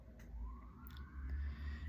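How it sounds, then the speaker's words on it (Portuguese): An ambulance siren at night, distant and faint, its rising wail sweeping up over a low rumbling background. "Do nada é uma ambulância, cara."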